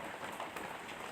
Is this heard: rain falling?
yes